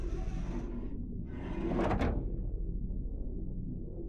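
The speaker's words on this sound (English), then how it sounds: "Working the winch will open the door." A manual winch in the video game Return to Grace is worked to open a heavy sliding door: a grinding mechanical scrape swells midway and fades into a low, steady rumble, with no voices.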